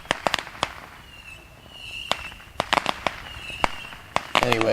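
Fireworks bursting on the 4th of July, a rapid scatter of sharp cracks and pops, some clustered in quick bursts, with whistling rises between them, loud and fairly near.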